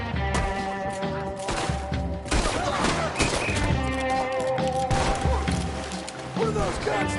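Gunfire in Red Dead Redemption 2, a dense exchange of shots and impact cracks layered over background game sound and voices talking.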